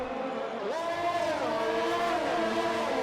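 Formula 1 cars race in the F1 2020 video game at the Canadian Grand Prix, a loud, continuous engine whine rising and shifting pitch as the cars accelerate, with overlapping engine tones.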